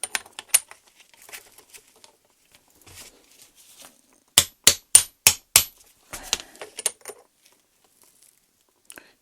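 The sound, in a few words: tapping on BMW E30 power steering rack piston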